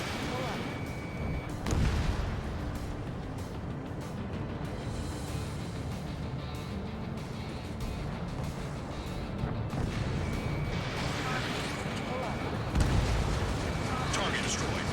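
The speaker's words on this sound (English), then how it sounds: "Es ist so einfach, die Raketen hier auszuweichen." Missiles and gunfire in the jet combat game Ace Combat 7, a dense rumbling roar of explosions and firing with heavier bursts near the start and end, under a voice speaking.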